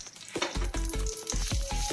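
Fenugreek seeds roasting in ghee in a pan, a close crackling sizzle broken by repeated scraping strokes of a spoon in a quick irregular rhythm, with no voices.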